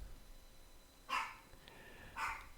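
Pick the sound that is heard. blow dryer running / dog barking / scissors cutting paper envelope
dog barking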